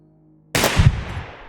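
A pistol fires in the video game Receiver 2, a single loud close shot with a sharp onset after silence and a rumbling tail that fades out.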